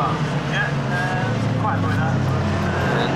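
BMW racing cars in the Kumho BMW Championship pass the spectator bank at Graham Hill Bend on the Brands Hatch circuit. Their engines drone loudly and steadily, and a commentator talks over the noise the whole time.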